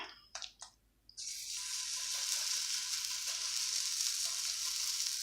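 An oats and veggies pancake sizzles in a pan. After a few brief clatters, the hiss starts abruptly and holds as a loud, steady, close sizzle with no talk.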